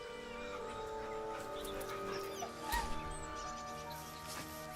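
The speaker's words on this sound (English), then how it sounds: "The dog whimpers nervously" A dog whimpers nervously in the video game Baldur's Gate 3, soft whines and a brief muffled thump over quiet ambient music and tones.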